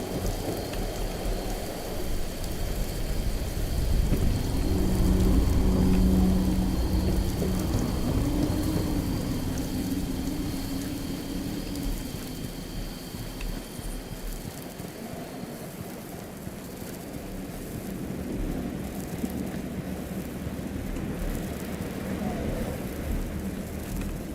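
A thunderstorm with rain rumbles through the video game Fallout 76: continuous heavy rain hiss over deep rolling thunder that swells early, then eases to a steady downpour with no talking.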